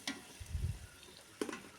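Green chillies, tomatoes and curry leaves stirred in a pan for a Sri Lankan wedding-style beef biryani: a faint, soft scraping stir with a light clink near the end, quiet and alone.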